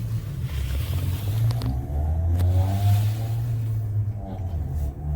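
A car engine hums close by and swells as the vehicle rolls slowly around nearby, a steady mid-pitched drone that rises and eases over several seconds with no talking.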